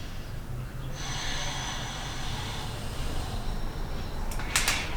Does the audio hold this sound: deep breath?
yes